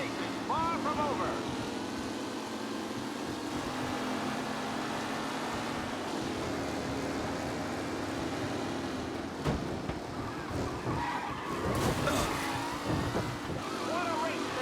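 Race car engines roar through a race in Mafia: Definitive Edition, a sustained loud drone with rising and falling revs and passing cars, while a commentator's voice talks over the engines.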